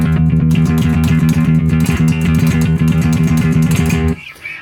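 A fingerstyle electric bass string is struck down hard onto a fretted note so that it clangs against the fret, giving a loud, buzzing, sustained tone with a repeated rhythmic attack that cuts off near the end.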